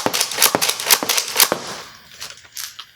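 Rapid sharp pops from a Nerf Rampatrooper hybrid spring blaster being slam fired, about eight quick shots in a burst followed by a few scattered fainter clicks, close and loud.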